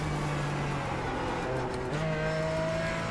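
Race car engine in the iRacing simulator holding a steady drone with pitch stepping upward as it accelerates through gears, continuous and moderately loud with no talk.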